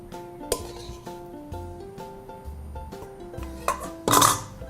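Banana puree is spooned into a small serving bowl, with light clinks and taps of utensil on dish scattered through the moment and a louder scraping clatter near the end, close up with no speech.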